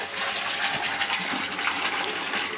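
Water flows steadily through an underground pipe into an aquaponics fish tank, a continuous close rushing gush with no breaks.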